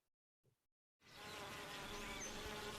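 Bees buzz in a dense, steady drone that starts abruptly after near silence and holds close and continuous.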